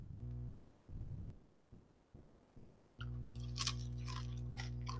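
Crunchy food chewed close to the microphone, a run of crisp bites and crunches, quiet at first and then louder, over a steady low electrical hum.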